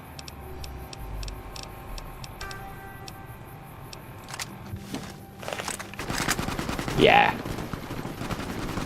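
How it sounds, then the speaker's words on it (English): A repeater rifle fires in Fallout New Vegas: sharp single shots crack out in a loose sequence, followed by a louder burst and a clatter near the end, over a low game-ambience hum, with a brief spoken word. "So this is a repeater rifle from Fallout 3."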